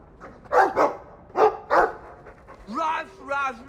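Dog barking in the video game Dragon Age II, a few short barks at moderate loudness, while a person talks over them in the first half.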